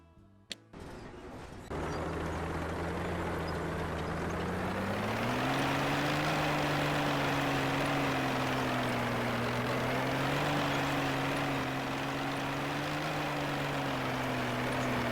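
A T-34/76 tank engine in Tank Mechanic Simulator cranks briefly, then catches and settles into a loud, steady diesel drone that climbs slightly in pitch as the tank pulls away and keeps running.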